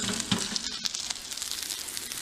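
Asparagus sautéing in a pan gives a steady, close crackling sizzle with small pops and no talking.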